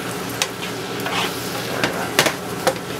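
Shrimp sautéing with a tangy scampi dressing in a pan over medium-high heat, giving a steady low sizzle broken by a few sharp clicks and scrapes of stirring utensils against the pan.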